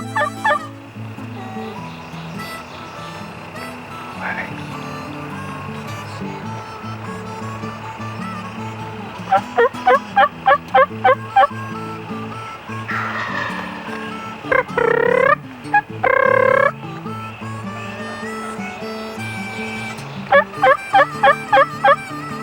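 A wild turkey gobbles repeatedly while strutting just out of shotgun range during a hunt, the loud rattling gobbles arriving in bursts over a steady background drone.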